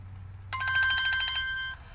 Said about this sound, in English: Okay, well that is my alarm.